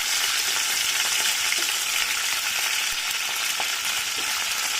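Tomatoes, eggplant and green chilies fry in oil in a kadai with a loud, steady, close sizzle and faint stirring scrapes throughout.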